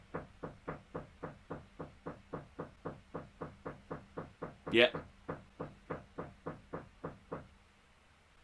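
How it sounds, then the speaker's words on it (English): A neighbor next door knocks on the wall in a steady, even run of about twenty-five dull thuds, with one sharper, louder bang near the middle. A brief voice speaks over it, then the knocking stops. "I've got a guy next door knocking on my..."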